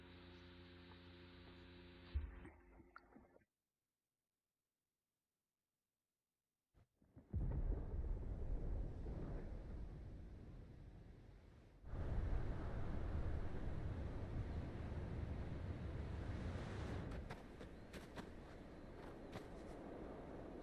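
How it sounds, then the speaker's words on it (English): Deep rumbling thunder in the video game Final Fantasy XVI rolls in two long, loud swells after a brief silence, with a low sustained roar filling the background. "Sounds like thunder."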